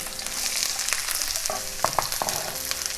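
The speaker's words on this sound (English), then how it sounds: "We can start our saute going." Onions, tomatoes, red peppers and mushrooms sauté together in a hot pan, a loud, steady close sizzle with a few sharp stirring scrapes and clicks.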